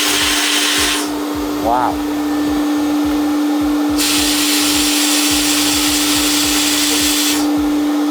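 A sand blaster works over a custom golf wedge, its loud hissing blasts switching on and off in long bursts over a steady machine hum, with a brief exclamation from a person nearby.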